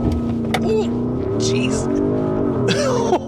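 A 2024 Porsche Cayenne S Coupe with its V8 pulling hard from a launch-control start, a loud, sustained engine roar climbing through the revs with a brief shift dip, while a person briefly exclaims over it.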